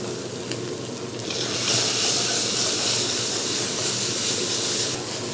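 Tofu filling with bean sprouts stir-fried in a pan gives a loud, continuous sizzle and hiss that swells after a moment and holds steady, with no talking.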